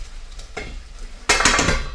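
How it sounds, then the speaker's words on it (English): Pork salsa pasta stirred in a pot, a soft scrape early on, then a loud burst of sizzling and clattering stirring that carries on to the end, close by with no talking. "I'm going to go ahead and lift the cover and give everything a stir"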